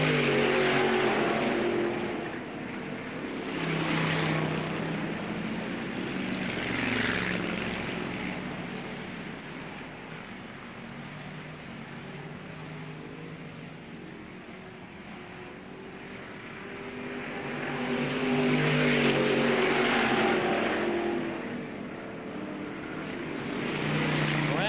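Race cars circling the Bureau County Speedway oval, a continuous engine roar that swells and fades in long waves as the pack comes near and then moves away, with no talking.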